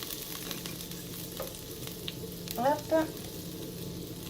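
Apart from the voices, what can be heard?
butter slowly melting and sizzling in a pan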